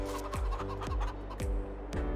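Chickens cluck repeatedly around a chicken pen in the Survival Challenge game, loud and close, with a few sharp rhythmic clucks about every half second over a steady droning background.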